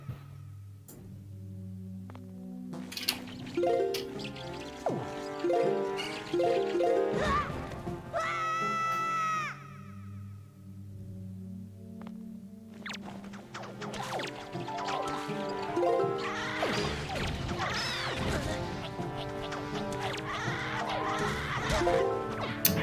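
Link, in The Legend of Zelda: The Wind Waker HD, cries out in a series of yelps and falling shrieks as he drops floor after floor, with game sounds and jingles between them and no talk.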